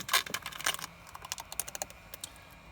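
Window tint film is peeled slowly off a Jeep windshield, giving close, crackly bursts of sticky tearing and popping as the glue lets go, in a quiet setting.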